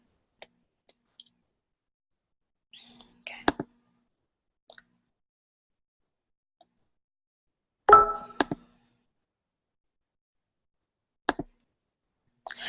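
Sparse computer mouse clicks, single and in quick pairs, spaced irregularly with long silent gaps between them, close and fairly crisp.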